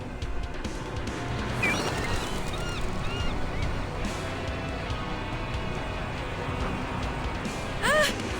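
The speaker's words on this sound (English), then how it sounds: "Ugh! These stupid birds!" Several video-game birds in Reverse: 1999 squawk and honk in short goose-like calls over a dense, busy background, with a louder burst of shrill cries near the end.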